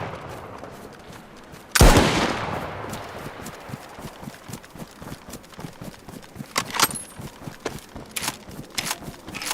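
A video game gun in Livonia fires one loud, close, sharp report that trails off into a noisy decay, followed by scattered clicks, footstep-like knocks and further fainter shots.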